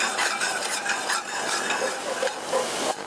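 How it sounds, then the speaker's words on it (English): Butter melting with a couple of sage leaves in a pan sizzles and crackles steadily, with faint stirring scrapes running through the frying noise for a few seconds. "A little bit of butter, and a couple of leaves of sage. We let the butter melt."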